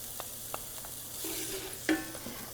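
Onions and garlic frying in a pan give a quiet, steady sizzle, broken by a few soft clicks and scrapes of stirring and one sharper knock near the end. No one speaks.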